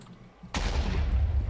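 A sudden loud blast in modded Minecraft, a sharp explosive onset after near quiet, then a sustained rumbling roar that fills the rest of the moment.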